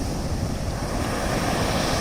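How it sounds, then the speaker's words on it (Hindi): Sea waves rise and fall in a continuous wash of surf, with a steady low rumble and wind-like roar and no pauses. "ये समुद्र का लहर उठते रहता है, गिरते रहता है, कभी छोटा लहर कभी बड़ा लहर, लेकिन लगातार होता है।"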